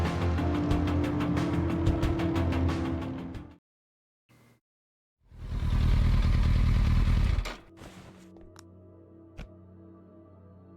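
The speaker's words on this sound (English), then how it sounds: "Won't riding a motorcycle, like, aggravate our hematoma?" Motorcycle riding in the video game Kathy Rain 2: a loud, rough engine rumble with clattering, a sudden cut to near silence, then a second roaring burst of a few seconds before fading into quieter ambience with a sharp click.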